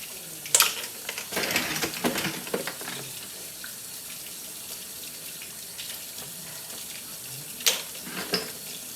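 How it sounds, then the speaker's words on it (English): A kitchen tap runs water into a sink as it warms up, close and steady with splashing bursts as hands move under the stream. "I'm going to warm this water up a little bit because my hands are frozen"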